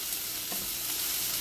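Brussels sprouts sizzle in a hot pan, with a quick scrape and clatter as they are flipped, the frying hiss steady and close throughout.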